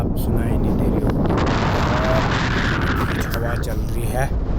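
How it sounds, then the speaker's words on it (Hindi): Fierce wind roars across a winter trekking campsite in the Indian mountains, a loud, continuous buffeting rush that batters the microphone throughout, with a voice speaking over the gusts. "इतनी भयंकर हवा चल रही है ना, आपको आवाज़ भी साफ सुनाई नहीं दे रही होगी।"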